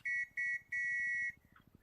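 Three loud, steady whistle blasts from ACE interaction equipment in the military game Arma: two short toots, then one longer sustained blast, close and clear, with a low rumble running underneath.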